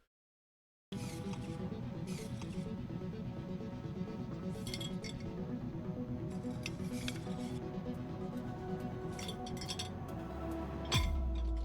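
A robot loads glasses and dishes into a dishwasher, producing repeated close clinks and glassy taps scattered over a steady mechanical hum, with a sharper knock near the end and no talk.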